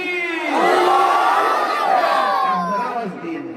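A large mosque congregation roars a takbir response in unison during a sermon at the national mosque in Dhaka, a loud sustained chant of many voices that swells and slowly fades over a few seconds.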